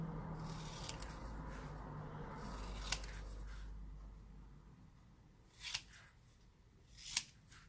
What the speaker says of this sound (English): I'm going to end up cutting this out somehow, making it kind of smaller.